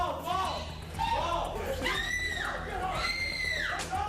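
A woman in a courtroom scene from a video game lets out two long, loud wavering screams amid crowd noise and chatter.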